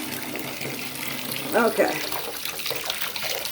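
Water runs steadily into a bathtub, a close continuous rushing splash, with a brief spoken word from a person partway through.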